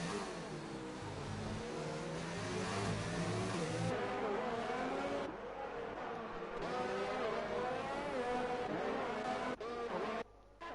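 F1 2019 racing game with cars on the Mexico circuit: high-pitched engines rise and fall steadily through gear changes and rev shifts, with a commentator talking continuously over the loud motor sound.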